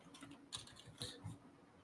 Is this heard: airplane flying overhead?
no